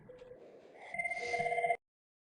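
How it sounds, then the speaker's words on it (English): An IP desk phone on a Cisco CUCM system with Mobile Connect rings with a short electronic trill, a warbling tone that swells then cuts off abruptly into silence. "which should ring both the PSTN and Hugo Reyes' phone."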